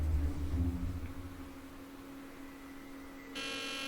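An alarm goes off in the Nancy Drew: The Deadly Device video game, a steady electronic buzzing tone over a low hum and background noise, with a brighter harsh buzz cutting in near the end.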